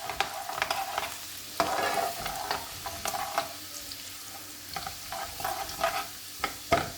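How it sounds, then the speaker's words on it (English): Chopped garlic fries in a pan on high heat, with a steady crackling sizzle broken by repeated scraping stirs of a utensil against the pan, close and alone. "Now I'm going to add the chopped up garlic."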